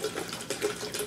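Water poured from a Cap10 bottle into a pitcher of Crystal Light sangria, a steady close splashing stream lasting about a second with small gurgling swells.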